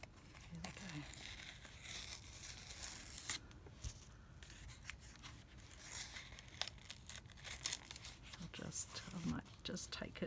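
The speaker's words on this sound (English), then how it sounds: "I might just tear it there so that the rabbit doesn't get torn" Paper mail packaging sealed with sticky tape being torn open and crinkled up close, quiet irregular rips and rustles with scattered handling noises.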